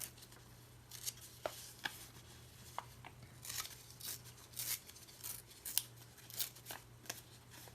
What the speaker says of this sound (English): So I was thinking I might tear this out and see if it can go on the page.